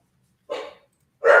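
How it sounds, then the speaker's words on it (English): Two short dog barks from household dogs, each a single burst with a pause between, moderately close and alone with no talk. "Sorry, my dogs are barking."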